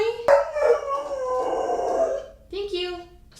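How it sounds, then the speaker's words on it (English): A pet dog howls indoors in one long wavering cry, then gives a shorter second howl after a brief pause, loud and close to the microphone. "I also have a dog that just came in here."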